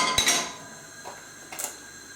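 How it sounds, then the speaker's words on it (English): A metal pan set down on a stovetop for heating, giving a sharp clank near the start, then two softer knocks of cookware being settled, close and fairly loud with no talk. "So pan on to heat"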